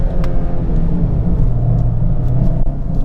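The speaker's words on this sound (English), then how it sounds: "Adam's off with a limited slip diff, scrabbling away, traction control light on" Hatchback cornering hard on a limited slip differential, engine droning loud and steady with a low rumbling roar throughout, tyre scrabble not clearly separable under the engine noise.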